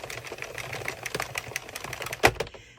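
Addi or Sentro circular knitting machine cranking out a messy bun ear warmer in yarn, a rapid run of sharp mechanical clicks, close and steady, ending in one louder clack before trailing off.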